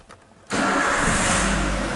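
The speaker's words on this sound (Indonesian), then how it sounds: "Oke, gini kita sudah nyalakan mesinnya" Toyota Avanza engine cranks and catches after a half-second of quiet, then settles into a loud, steady idle up close.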